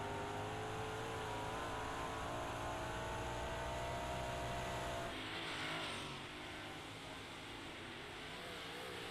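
Race cars at USA International Speedway roaring around the track as a loud, continuous engine drone with shifting pitch. It eases slightly as the cars pass, with no voices heard.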